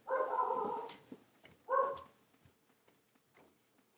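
Pet dogs at home barking, two loud close barks with a long drawn-out first one, followed by faint whimpers and small yips trailing off.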